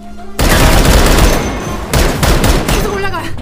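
Rapid bursts of gunfire erupt after a brief quiet start and continue loud and dense to the end, with a second volley around the middle, in a zombie film where a fighter uses his last bullets against hard-to-kill opponents.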